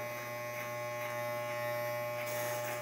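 Electric hair clipper fitted with a number 2 guard buzzes steadily and close up while cutting a client's hair, a constant mains-like drone with small rises as it passes over the head.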